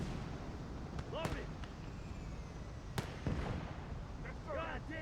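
Mortar and artillery fire in a D-Day 1944 World War II strategy game, with a few sharp distant thumps and whistling shell sounds over a steady battle rumble while someone talks.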